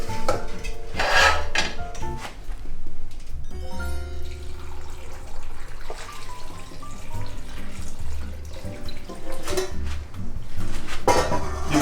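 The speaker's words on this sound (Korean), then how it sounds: "이제 무에 바로 넣고 절이겠습니다." Salted radish cubes for kkakdugi are tossed in a bowl, with repeated clattering, scraping and wet, sloshing sounds of brine, moderately loud and close, mostly without talk.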